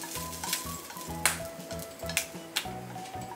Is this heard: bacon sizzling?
yes